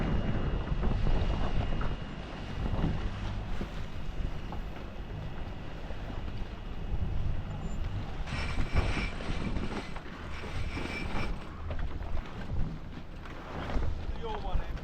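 Steady wind roars across the microphone while sailing on the Solent, a continuous rushing buffet with a humming engine-like drone, and someone talks over it.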